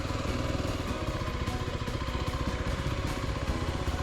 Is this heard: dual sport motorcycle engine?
yes